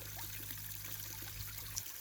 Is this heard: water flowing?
yes